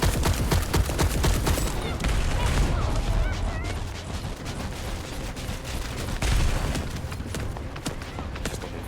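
Rapid, sustained gunfire at a boss in The First Descendant, dense clattering automatic shots running almost without pause amid heavy game effects and a thumping backdrop.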